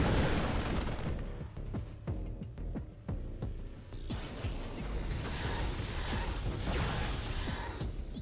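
Protoss Stalkers in StarCraft 2 firing on SCVs, a rapid cluster of sharp zapping shots and impact crackles over dense battle noise, then a steady wash of combat sound.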